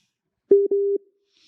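A telephone line tone sounds in a broadcast studio for an incoming call: two short, clean electronic beeps at the same steady pitch, the second a little longer, loud and close, then silence.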